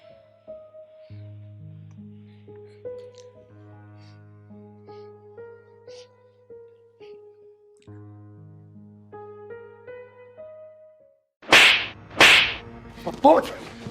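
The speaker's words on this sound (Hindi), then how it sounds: "अरे पूछ कि मैं तुझे थप्पड़ क्यों मारा?" Two or three sharp, loud slaps across the face land in quick succession near the end, right after a long stretch of soft melodic music.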